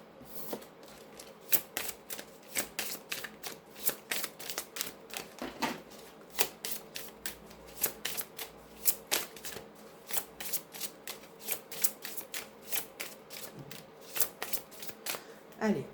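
Tarot cards being shuffled for a reading, a steady run of crisp riffling snaps and flutters across the whole stretch, close and fairly loud, with no voice over them.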